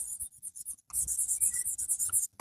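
Hand writing during an accountancy lesson, with a pen scratching in quick, uneven bursts, a short pause and then a longer continuous run of strokes, close and fairly clear with no talking.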